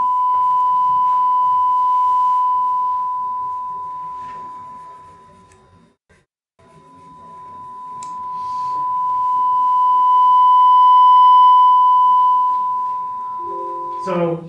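A steady pure sine tone, the wave's amplitude being stretched and compressed, swells and fades in volume, dipping almost to silence midway before rising again, with a voice faintly present.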